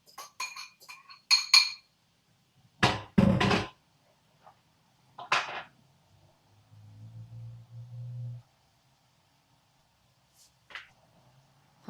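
Cooked rice is put into a bowl with several sharp clinks and knocks of dishes and utensils in separate bursts, between quiet gaps and a low scraping stretch, close and fairly loud with no talk.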